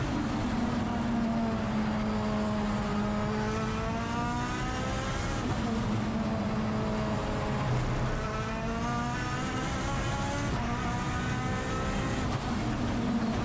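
Billet Mitsubishi 4G63 engine in the four-wheel-drive Tilted Evo time attack race car, revving loud and continuous on track, pitch sweeping up and down through gear changes, with a race commentator talking over it.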